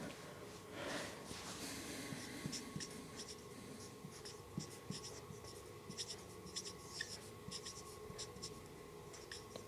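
Pen scratching across paper in quick, uneven strokes while maths is worked out by hand, close and steady, with a faint background hum and no talk.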